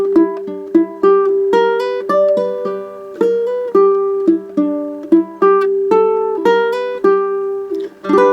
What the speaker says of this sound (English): what if I cheat and play some bluesy notes like that B flat we were playing